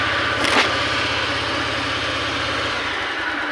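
A Honda Vario 125 scooter with a fault that makes it sputter and respond poorly to throttle idles steadily, its engine putting out a close, rapid, even low thrum that settles slightly toward the end.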